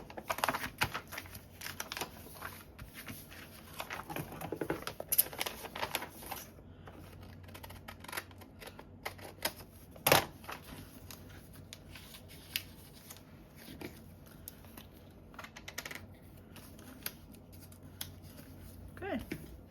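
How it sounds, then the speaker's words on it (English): Scissors snip through a paper pocket made from repurposed mail, scattered sharp cuts and paper rustles spread across a quiet room. "I'm gonna cut the pocket a little bit here"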